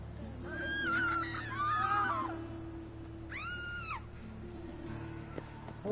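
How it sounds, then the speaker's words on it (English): Wavering, wailing screams from characters in The Witcher 3 rise and fall in two main bursts, a longer quavering cry first and then a brief arched shriek, above a steady low game-world drone. "Oh, stop screaming."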